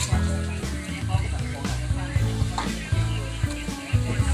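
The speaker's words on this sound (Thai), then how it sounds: "คั่วหมูนะครับ" Minced pork stir-frying in a hot pan for a northern Thai style dish, a steady sizzle with repeated stirring scrapes and clatter, close and fairly loud.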